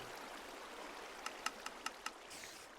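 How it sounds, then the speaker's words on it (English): Water flows steadily in a Minecraft mob farm, a continuous soft rushing wash with a short run of sharp ticks partway through. "the water pushes any bad guys off"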